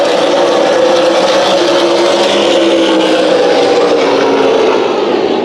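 Late model stock cars race single file at Kern County Raceway during Winter Showdown qualifying, a loud, steady engine roar holding close throughout with no talk over it.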